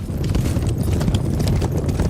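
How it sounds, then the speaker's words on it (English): Horse hoofbeats clip-clop in a steady, continuous rhythm, close and fairly loud, with several horses approaching at once and no one speaking. "He heard horses coming."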